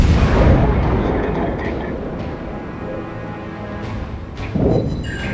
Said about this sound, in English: I'm shooting at a battleship with armor-piercing rounds in a cruiser